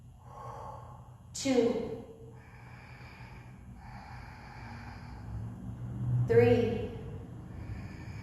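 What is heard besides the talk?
breathing in warrior 1 yoga pose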